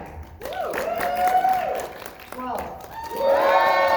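A convention crowd at AwesomeCon cheers and applauds for a Doctor Who doctor, with loud, sustained whooping and clapping that swells toward the end while a voice calls out over the noise.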